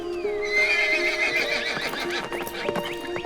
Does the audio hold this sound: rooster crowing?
no